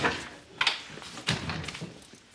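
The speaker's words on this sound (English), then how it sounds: "Pull the door to on your way out" A door pulled shut indoors in a household setting, with a couple of soft knocks and a muffled thud of it closing, moderately close amid room noise.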